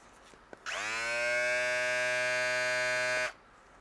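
A Meisho M7 single-foil electric shaver switches on with a click and hums as a steady, strongly tonal buzz for about two and a half seconds, then cuts off, heard up close and alone.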